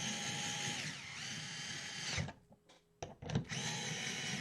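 A power drill drives screws into a 3D-printed wax press, whining at steady speed, winding down, pausing briefly with a couple of clicks, then spinning up loudly again.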